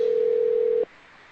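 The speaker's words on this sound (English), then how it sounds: "We got somebody's phone is ringing in our background" A phone sounds in the background with a steady electronic tone that holds for under a second and then cuts off, leaving faint room noise and no speech.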